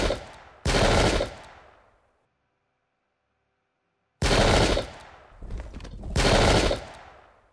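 Musket volleys in the Pike and Shot video game, set at the 1644 Battle of Marston Moor: loud crackling bursts of massed gunfire, one volley, a silent gap, then two more rolling volleys close together.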